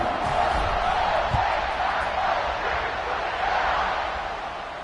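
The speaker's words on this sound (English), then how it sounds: "this crowd is feeling themselves after that last drive" A college football stadium crowd at a Rutgers kickoff gives off a steady, dense roar of cheering, continuous and fairly loud throughout.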